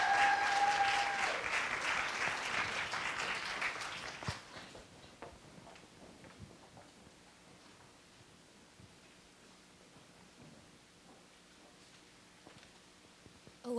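An audience claps loudly to welcome a student sexual wellness advocacy team at a Take Back the Night event. The dense applause fills the first four seconds, then falls away to a quiet room with faint rustling.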